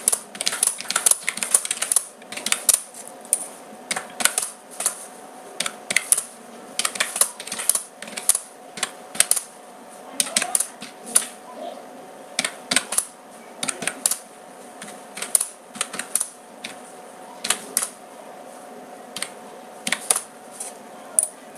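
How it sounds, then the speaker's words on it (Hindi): Rapid keystrokes typing numbers into a spreadsheet on a computer keyboard, a steady clatter of sharp clicks in short bursts with brief pauses, close and alone. "ठीक है, तो हम लोग कोई भी नंबर टाइप कर लेते हैं।"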